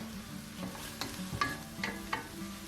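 Chunks of lamb meat sear undisturbed in a pan on high heat, a steady soft sizzle under a low hum, broken by several sharp spits and pops spaced about half a second apart.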